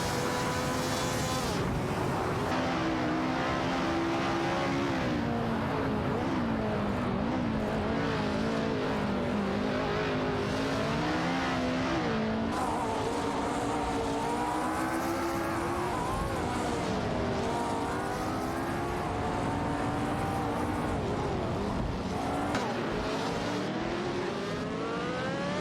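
AI-driven race cars in the Live for Speed racing game, battling and overtaking one another. Several engines whine and rev continuously in overlapping, shifting pitches as cars accelerate and pass, loud and steady throughout with no talking.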